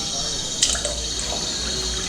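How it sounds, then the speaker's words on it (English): Water splashing and dribbling over hands in a river, performed as a live-reading sound effect: a steady running wash with a brief sharper splash near the start, fairly close and continuous. "put your hands in the river"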